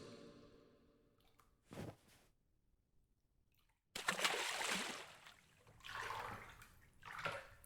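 Water in a swimming pool, faint dripping at first, then louder swishing and splashing in surges as someone moves through the water, close and soft, with no talking.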